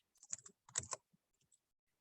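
A computer keyboard on a podium clatters with two quick bursts of close, crisp keystrokes, followed by a few scattered soft taps fading into silence.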